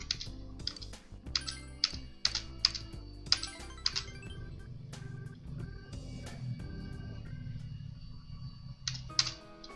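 Irregular clusters of key presses on a computer keyboard while playing Persona 4 Golden, crisp and close, over low game music and background hum.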